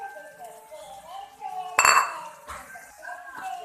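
A utensil stirs clams and tempeh with oyster sauce and sweet soy sauce in a pan, with clinks and scrapes against the metal and one louder clatter in the middle. Someone talks over the cooking.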